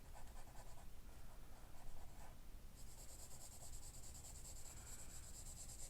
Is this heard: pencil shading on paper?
yes